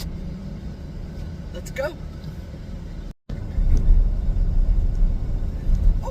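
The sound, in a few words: car driving on the road to work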